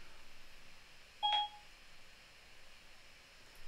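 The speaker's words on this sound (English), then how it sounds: "Somehow my phone thought I was talking to it there and tried to turn itself on." A phone chirps once with a short, bright electronic beep while trying to switch itself on, standing out briefly over a quiet room hum.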